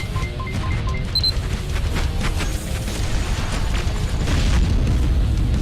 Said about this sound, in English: The explosions are quite pretty.